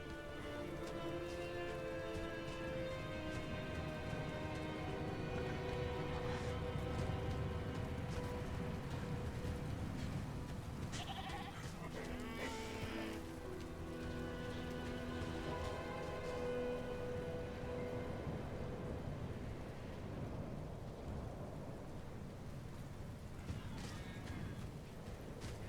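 Steady, dense rain pours throughout a stormy outdoor area in the game Diablo 4, a continuous hiss with a low rumble underneath and brief brighter bursts around the middle, with no voices.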